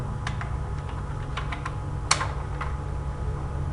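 Computer keyboard keys tapped in short irregular bursts of a few clicks at a time, one sharper keystroke standing out, over a steady low hum; no one talks.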